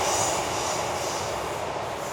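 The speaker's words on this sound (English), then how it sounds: "Oh, there's a train." A train passes near a viaduct on a Dartmoor walk by Okehampton, a steady broadband rumble with a faint high wheel squeal, holding fairly loud and even for the whole stretch with no talking.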